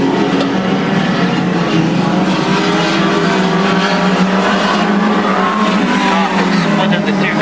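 Stock cars race past at the Crimond track, a dense, continuous roar of engines with tyre noise and pass-by surges. A commentator talks over the din throughout.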